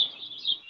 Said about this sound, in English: these birds are flying on top of my head